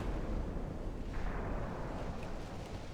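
Secondary guns aboard a warship firing in a naval battle game, a dense continuous rumble of booming blasts that stays loud and steady throughout, with no talk.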